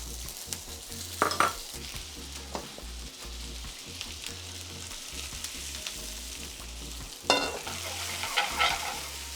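Rice tinted with turmeric stir-fried in a hot pan for a Peruvian Amazonian chaufa, a steady close sizzle with a spatula scraping and tossing and two louder bursts of frying.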